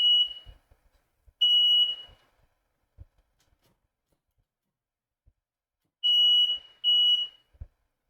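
A household smoke detector chirps in four loud, piercing electronic beeps in two widely spaced pairs, each long and steady, with faint thumps and near silence between them.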